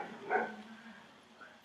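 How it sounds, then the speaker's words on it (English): A single dog bark sounds indoors, a short sharp burst followed by a faint trailing whine, fairly distant and alone with no talking. "Sorry, dog's barking."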